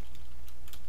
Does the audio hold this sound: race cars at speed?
no